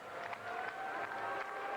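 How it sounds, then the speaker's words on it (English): Crowd in a gymnastics arena at the 1999 Pan Am Games booing a score, a sustained, distant mass of voices with a few swells, continuous and fairly loud for its brief length. "The crowd's booing, but it turns out the bent elbows hurt Yvonne Tusek"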